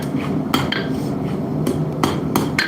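A heavy hammer strikes 3/8 inch mild steel stock at a forge, giving several sharp metallic clinks at irregular intervals over a constant roar of forge noise.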